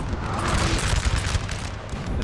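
Napoleonic musket volley fire in a Napoleon: Total War battle, a crackling, rumbling fusillade of massed shots rolling steadily at mid distance, with no talking.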